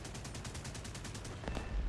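A long burst of Hispano cannon fire from an aircraft in War Thunder, a dense run of rapid shots followed by a louder explosion near the end.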